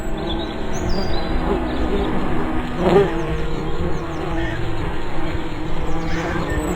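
Loud, dense buzzing of a swarm of bees from a disturbed nest in a video game, a continuous droning hum with faint chirps mixed in.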